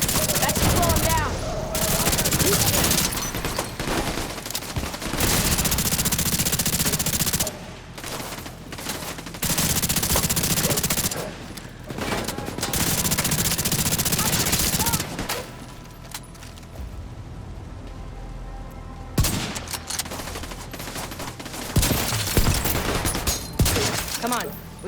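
Bursts of automatic gunfire and rapid weapon fire in The Division 2 combat, loud and dense with short pauses between volleys, with voices and game sounds mixed underneath.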